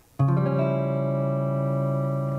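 A strummed major chord on guitar, slid up one fret, rings out once and sustains, slowly fading, with a faint pick scrape near the end.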